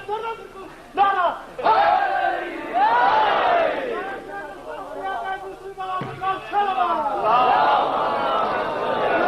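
A large crowd at a religious gathering shouts a slogan in unison in loud, forceful waves, with a lead voice calling out between the roaring responses.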